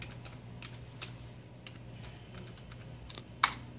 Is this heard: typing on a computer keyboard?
yes